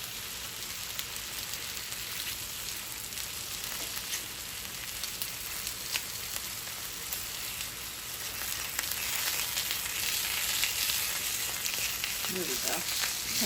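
Breakfast food sizzling and frying in a hot pan, a steady crackling hiss that grows slightly louder toward the end, with faint utensil scrapes and no talking.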